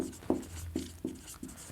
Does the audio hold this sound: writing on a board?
yes